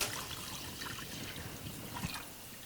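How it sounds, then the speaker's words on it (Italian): Grape must being poured into a cooking pot in place of water, a soft steady liquid trickle with a brief splash near the end, heard close and without talk. "Invece dell'acqua si ci mette il mosto."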